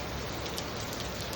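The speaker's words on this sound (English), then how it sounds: "the rain's kind of coming in" Rain falls steadily, a dense, even hiss of drops filling the whole moment without pause or other sounds.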